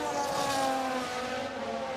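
Formula 1 race cars in the F1 Manager 22 video game, engine whine of several cars held steady under continuous race noise, with a pitch sweep as cars jostle for position.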